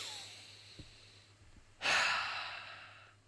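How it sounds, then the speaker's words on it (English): One deep breath drawn in through the mouth in a beatbox lesson, a sudden airy inhale that swells then tapers over about a second, close and alone after a few faint clicks. "Nice deep breath in."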